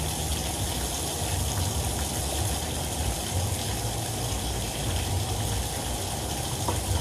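Tap water runs steadily from an outdoor fountain or faucet on Forest Avenue in the Bronx, New York City, a continuous close gushing splash with no talk over it.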